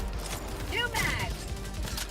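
Weapon magazine reload in the video game Helldivers 2: a quick series of metallic clicks and a ratcheting snap near the middle, over a busy game background of low thuds and rumble.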